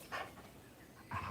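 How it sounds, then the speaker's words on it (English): A small dog named Wally gives a pair of faint, high yips with a soft whimper between them during an outdoor walk, with no talking over them. "He's a little dog."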